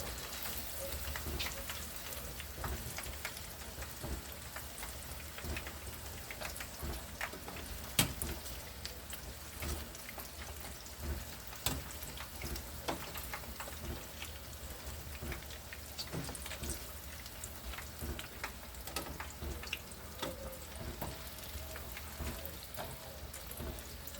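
Mozzarella sticks fry in a pan with a dense, steady crackle and sizzle, scattered pops breaking through a constant hiss over a long stretch, with no talk.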